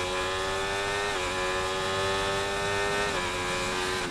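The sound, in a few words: Formula 1 race cars from video game F1 24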